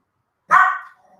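A Chihuahua gives one sharp, fairly loud bark that trails off quickly, close by, against a silent background with no talk.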